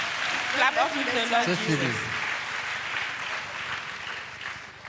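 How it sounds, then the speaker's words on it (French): A church congregation applauding, a broad wash of clapping heard under a voice for the first couple of seconds, then continuing steadily alone at moderate volume. "Acclamons, c'est la victoire."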